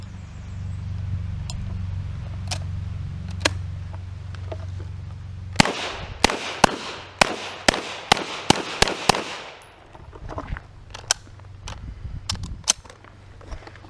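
Sharp, close gunshots from a 1917 Mauser C96 Broomhandle pistol in 7.63x25 at a range, first a few scattered cracks, then a rapid run of about ten shots, then more spaced reports.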